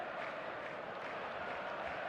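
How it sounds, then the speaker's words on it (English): An expectant stadium crowd in eFootball makes a steady, dense murmur. The buzz stays continuous and even at a moderate level with no sharp peaks. "There's a real expectant buzz in the stadium"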